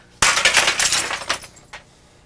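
A breakaway prop bottle of Old Smuggler made of paper glass shatters with a sudden loud crash, followed by a spray of tinkling fragments and one small late clink as pieces settle.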